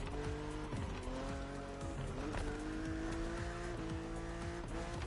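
A BMW Z4 E89 roadster drives hard in the racing game The Crew Motorfest. Its engine drones loud and steady, rising and falling with gear shifts and mixed with tire squeal throughout, and no one talks.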